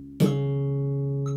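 A single bass guitar note, C sharp, plucked once and left ringing steadily with a sharp attack and a long, even sustain, heard alone with no talking.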